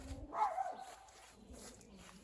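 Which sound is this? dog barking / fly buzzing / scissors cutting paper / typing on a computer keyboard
dog barking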